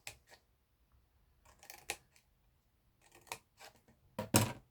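Scissors snipping along a scored card line to miter the corner of a handmade treat box, with a few short crisp cuts spaced apart and a louder, denser snip near the end, no voices.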